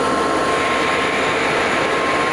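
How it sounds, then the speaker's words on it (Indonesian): A USA-built compressor rig producing medical oxygen roars with a loud, steady broadband drone and a constant high whine, unbroken and close for the whole stretch. "Ini adalah contoh kita produksi O2 ya, dengan mesin kompresor rig buatan USA ya"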